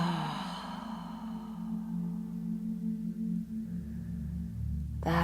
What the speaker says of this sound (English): And last 5 sigh breaths.